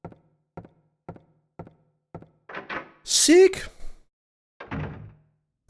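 A locked door rattles and thunks in the video game Silent Hill: a row of short, evenly spaced knocks, then a heavier burst with a clank, then one more thud. A voice speaks briefly over it.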